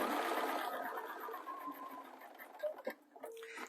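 A sewing machine runs steadily, stitching a cosy neck warmer with pom pom trims, its motor whirring at close range before slowing and stopping into a few small clicks and knocks.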